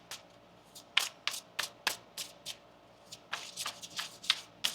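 Tarot cards being shuffled by hand up close, a rapid run of crisp riffling flutters and soft slaps in uneven bursts, with no talking.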